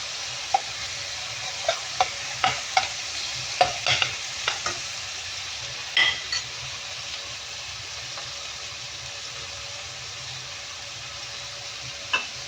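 Garlic frying in butter in a pan with curry leaves nearby, a steady low sizzle broken by a dozen scattered scraping stirs of a utensil against the pan, close and moderately loud, no talking.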